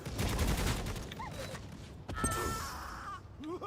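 Video-game gunfire in Necromunda: Hired Gun, a rapid burst of shots early on, then further scattered bursts with whooshing effects, loud and close.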